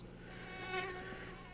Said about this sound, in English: You hear flies / mosquitoes.